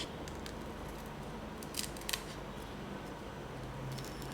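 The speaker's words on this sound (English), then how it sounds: "Next, we just cut the edge here according to the line that we draw." Scissors snip through fabric along a drawn line while a padded headband is being made, a few sharp close crisp cuts over a quiet background, no talking.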